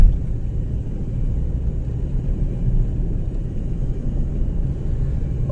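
A red car passing on a mountain road between Chitral and Booni, heard as a steady low engine rumble with road noise that holds evenly throughout, fairly close, with no talk.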